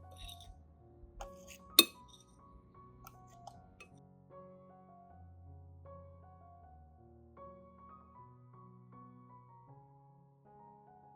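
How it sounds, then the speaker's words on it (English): Glass clinks and small taps as garlic peel powder is put into a glass jar, one sharp clink followed by lighter scattered knocks and faint rattles in a quiet room, with no talking. "I store the garlic peel powder in a glass jar or spice container for later use."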